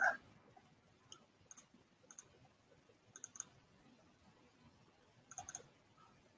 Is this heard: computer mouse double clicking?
yes